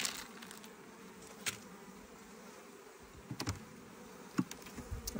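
Honeybees buzz around a freshly opened hive, a dense steady hum close by with occasional louder passes of single bees near the ear.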